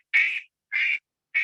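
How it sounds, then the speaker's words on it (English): A duck quacks three times in a row, each call short and nasal with brief even gaps between, clear and moderately loud with silence around each quack. "It's a duck."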